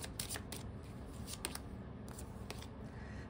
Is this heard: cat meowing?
no